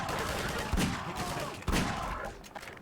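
Magnum revolver shots in Half-Life 2, two sharp, loud gunshot bangs about a second apart, with game noise and faint voices around them.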